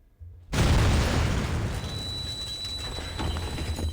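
A sudden loud explosion in the video game Reverse: 1999 bursts in and leaves a sustained roaring, crackling rumble that slowly fades but stays strong to the end.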